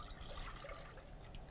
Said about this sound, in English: pour your heavy whipping cream